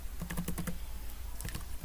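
Fingers type on a computer keyboard in quick bursts, a cluster of rapid clicky keystrokes followed by a short pause and a few more taps, close and distinct over a steady background hiss.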